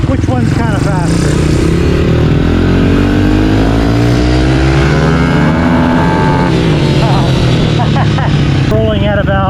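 A Honda CRF110 pit bike fitted with a 147cc big bore kit pulls hard through first, second and third gears. The engine screams loud and close, its pitch climbing and dropping at each shift.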